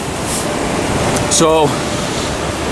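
Big ocean waves crash against rocks by a sea cave on Rialto Beach, Washington, giving a steady, loud, broadband roar of surf throughout, with a brief spoken word heard over it midway.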